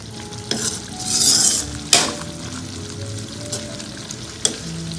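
Roasted eggs stirred into a simmering sauce in a pan, with soft sizzling throughout, a few sharp spoon scrapes and clinks against the pan, and one brief burst of bubbling.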